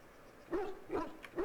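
A dog in the fantasy video game Dragon Age Origins gives a few soft, distinct whimpering barks in quick succession, faint and close, with nothing else over them.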